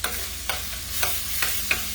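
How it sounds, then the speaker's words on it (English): A spoon stirs minced garlic and lemon zest in a pan for chicken piccata, giving soft scraping strokes about every half second over a steady close sizzle, with no talking. "And I am going to go with a spoon. Kind of mix that around here."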